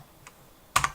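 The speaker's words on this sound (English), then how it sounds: "Tap tab on your keyboard, type in multiply divide." Two quick keystrokes clack on a computer keyboard near the end, loud and close after a nearly silent stretch, during 3D rigging software work.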